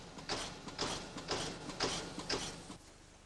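A programmable punching machine punching holes in metal plate in a factory, with a steady series of about five sharp mechanical thumps and clatters at an even rhythm, close and alone.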